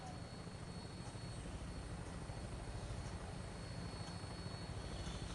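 A Vertibird aircraft lifts off in Fallout 4, its rotors producing a steady, dense whooshing roar that fills the scene at an even level throughout, with no talk over it.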